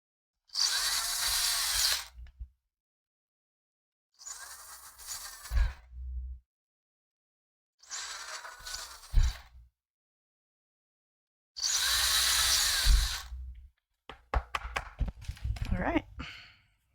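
Handheld power sander working on chocolate during a livestream, running in four loud bursts of about two seconds each separated by silence, then sharp clattering knocks at the end; low voices come through between bursts.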